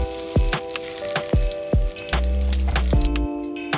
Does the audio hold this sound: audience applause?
no